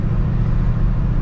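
A Holden HJ Premier from the 1970s cruises along, its engine a steady low rumble with road noise, heard from inside the car and continuous without talk.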